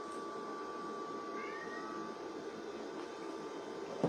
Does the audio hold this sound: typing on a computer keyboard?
no